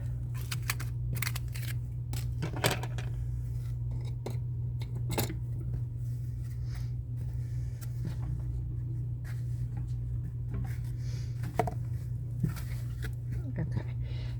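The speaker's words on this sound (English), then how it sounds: "We're going to just cut that off." Something is cut off during a craft project making a bracelet display from Dollar Tree supplies, with scattered snips and small clicks of handling. A person talks throughout.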